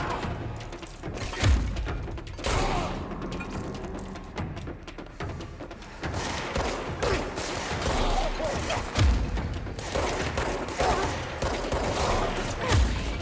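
Gunfire from the service weapon in the video game Control, bursts of shots and heavy thuds in irregular clusters over a busy, loud in-game soundscape with no talk.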